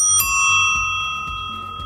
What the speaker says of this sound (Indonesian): Bagian bel saya menggunakan bel YWS atau bel produk Taiwan, dan suaranya cukup nyaring ya teman-teman.